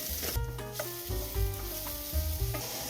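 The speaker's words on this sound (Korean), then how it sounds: "샐러리, 당근. 7, 8분 정도 볶아주세요." Onion, celery and carrots, with a spoonful of garlic, sauté in a pan for a gluten-free shepherd's pie, giving a steady close sizzle with light stirring under background music.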